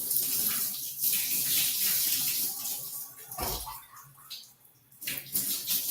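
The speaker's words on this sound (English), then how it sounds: "Rinse my hair." Water runs and splashes steadily while hair is rinsed, a close, broadband wash that swells and dips as the stream hits hair and skin, with no talking.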